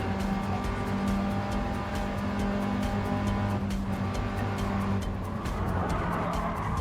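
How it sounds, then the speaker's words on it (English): An 80-horsepower Mini Cooper in Gran Turismo 7 drones steadily under acceleration, its engine a constant buzzing hum with a faint shift in pitch, alone without talk. "80 horsepower Mini Cooper"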